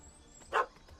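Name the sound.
puppy barking in The Witcher 3 video game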